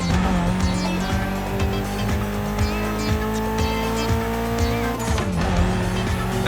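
A rare Evo in The Crew Motorfest revs hard with a loud, continuous engine drone and repeated tire squeals, the pitch sweeping up and down through gear changes, near and alone with no talk.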